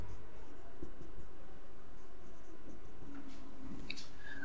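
A pen scratches along a journal ledger page as a line is ruled across the particulars column, a soft continuous scraping close by over a steady low background hum, with no talking.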